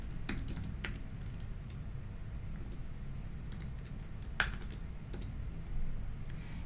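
Quiet, steady typing on a computer keyboard while entering LaTeX markup, with short bursts of key clicks spread over several seconds and one sharper click partway through, heard alone with no voices.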